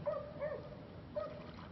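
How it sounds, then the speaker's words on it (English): Dogs in a kennel whimper and yip in a few short, faint cries, with quiet gaps between them. "there's 1, 2, 3 dogs in the kennel"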